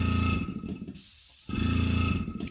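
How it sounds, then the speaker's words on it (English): An airbrush setup's air compressor gives a loud, steady broadband hiss that drops out for about half a second and then resumes just as strongly, heard alone without voices. "That noise you're hearing is the air compressor for this."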